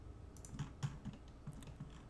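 Computer keyboard keys tapped while working in design software, a few soft, quiet clicks in loose rhythm, close but faint.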